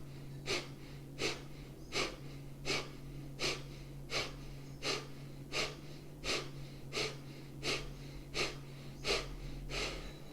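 Repeated sharp, rhythmic breaths during a yoga breathing exercise, about fourteen quick forceful pulses at a steady pace over a low constant hum, close and clear with no talking.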